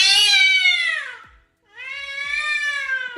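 A house cat named Cassius meows twice, loud and close: two long, drawn-out cries with a short gap between them and no voices alongside.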